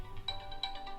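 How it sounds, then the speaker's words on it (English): A mobile phone ringtone plays faintly in the background, a short repeating electronic melody of quick tonal pulses. "Sorry about that, that's my phone."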